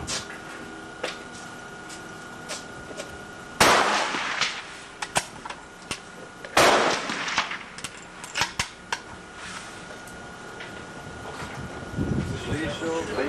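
Rifle shots at a benchrest shooting range, two sharp loud cracks a few seconds apart with short ringing tails, surrounded by clicks and handling noise of the gun and someone talking nearby.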